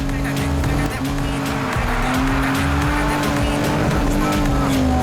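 Race cars roar through a street race in Need for Speed Heat, a steady loud engine drone with rising and falling pitch as gears shift, with tires squealing over it and voices talking throughout.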